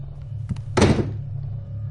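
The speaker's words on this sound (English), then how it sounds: "And that door just closed." A door swinging shut in the Dying Reborn VR game, heard as one dull, fairly close thunk against a low steady hum, with no talking.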